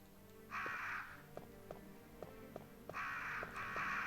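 Crows in Resident Evil 1 give two bursts of harsh cawing, the first brief and the second a pair of repeated calls, over a low ambient hum with soft, regular ticking.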